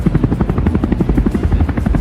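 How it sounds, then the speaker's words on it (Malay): Several Agusta A109 helicopters pass overhead in formation during a national day flypast, their loud, steady rotor chop and engine drone filling the air without pause and with no voices. "Diikuti juga dengan 3 buah pesawat A109."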